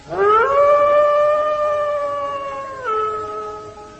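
A loud, close wolf howl from an audio drama sound effect rises, holds a long wavering tone, then dips and trails off, alone with no talking.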